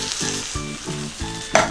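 Water poured into a pan of stir-fried kimchi sets off loud, continuous sizzling and frying, with rhythmic pulses as the food is stirred and a sharp bright burst near the end.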